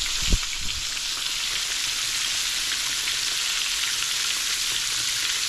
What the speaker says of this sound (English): It's going to come back up as the fish starts to fry and heats up.